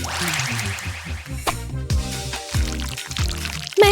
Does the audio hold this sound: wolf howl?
no